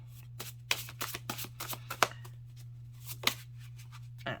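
Tarot oracle cards shuffled by hand in a quick, irregular run of crisp riffling bursts, close and clear over a low steady hum, with no talking.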